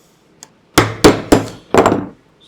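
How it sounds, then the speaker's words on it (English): A hammer knocks nylon anti-backlash nuts out while the part rests on a hard surface: one faint tap, then four sharp, loud metallic strikes at roughly even spacing, close up, the last one doubled. "I'm going to use my hammer"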